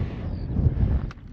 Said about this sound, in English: It's getting a little bit breezy the further we get up as well.